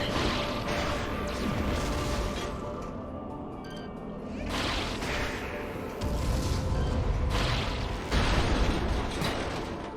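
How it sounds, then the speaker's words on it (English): A bridge collapses in Metroid Prime 3: Corruption, giving a sustained roar of heavy crashing, grinding debris and booming impacts, with fresh loud bursts near the middle and end and almost no talk. "We're just destroying this bridge."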